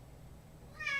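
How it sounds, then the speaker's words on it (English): Sphynx kitten meowing close by, a short harmonic call rising near the end after quiet room noise, with no talk over it. "he's really noisy because he's a kitten, and a sphinx, and they're just noisy animals"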